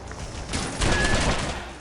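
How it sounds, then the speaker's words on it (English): Gunfire from a grenade launcher in the GameCube first-person shooter Red Faction 2, a dense burst of loud, overlapping blasts and rumbling impacts lasting a couple of seconds with no talk. "I was trying to use the grenade launcher gun on these guys the entire time"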